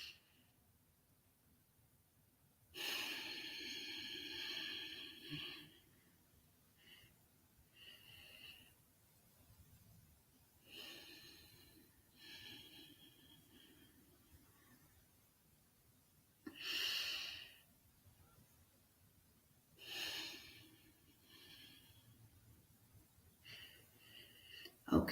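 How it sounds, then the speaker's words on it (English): Yoga breathing demonstration by a seated instructor: several loud, breathy bursts of forceful exhalation and inhalation with long quiet gaps between them, close to the microphone, with no talking over them. "now all of you can follow the same breathing technique"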